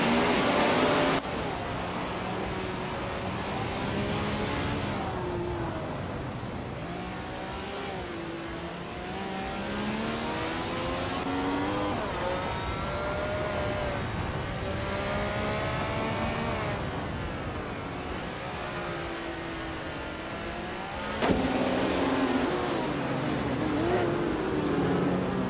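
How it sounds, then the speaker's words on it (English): A 1977 Porsche 936 race car drives in a race, its engine note rising and falling through repeated gear changes and revs for the whole stretch, with a brief sharp jolt late on. "Vinha 17 is driving a Porsche 936 from 1977"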